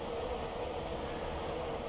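A Class 92 freight locomotive runs in Train Simulator Classic on the Gravesend line, giving a constant low rumbling hum of rolling rail noise with no talk.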